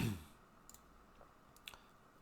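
A computer mouse clicks a few times, small sharp taps spaced apart in a quiet room after a short low thump at the start.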